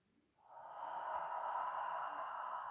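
A long, steady exhale through the nose or mouth during a warrior 3 pose in Hatha yoga, rising after a brief pause and holding as a smooth, close breath for over two seconds.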